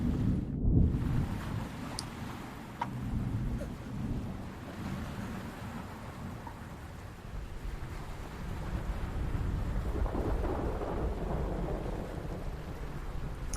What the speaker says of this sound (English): You hear thunder in the distance.